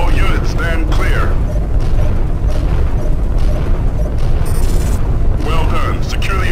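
The Sathanas warship is torn apart by beam fire during a Freespace 2 space battle: a dense, loud, continuous roar of rumbling explosions and booms fills the scene, with voices briefly heard over it near the start and end.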